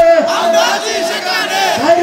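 Thousands at a religious rally in Kishoreganj chant a slogan in unison in reply to a takbir call, loud rhythmic massed voices rising and falling in repeated phrases.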